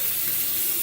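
A tap runs steadily into a sink during a travel wet shave, a continuous close hiss of flowing water with no breaks.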